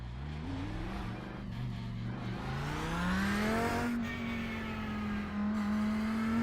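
A race car in the iRacing sim revs loudly and steadily, its engine note climbing in pitch across several seconds with a faint tire squeal near the end, close and continuous with no talking.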